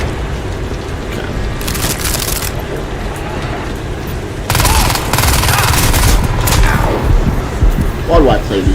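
Sustained gunfire in Crysis 2, bursts of automatic fire crackling over dense noisy combat, loud and close, growing more intense partway through, with a voice speaking over it.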